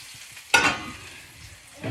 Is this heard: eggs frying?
yes